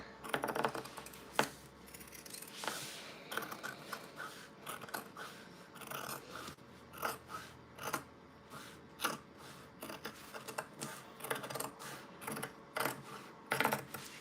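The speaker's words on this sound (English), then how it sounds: "I'm gonna cut 1/8 of an inch away from the line" Scissors snipping through fabric just beside a sewing stitch line, a steady series of crisp, close clicks and snips at an uneven rhythm, quiet, with no talking.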